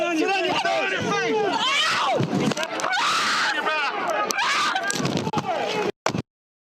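A woman screams during a chaotic street arrest by riot police, with shouting voices, scuffling and crowd noise, loud and close, cutting off abruptly at the end.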